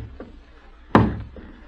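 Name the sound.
knocking at a door in a radio play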